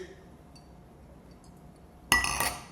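A wine glass rings with one bright, sharp clink in a toast, close and loud after a quiet stretch, and a faint shimmer trails off.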